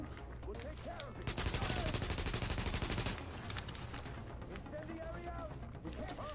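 Rapid turret gunfire rattles in a sustained burst for a couple of seconds during a firefight in Tom Clancy's The Division, with game noise and a voice talking underneath.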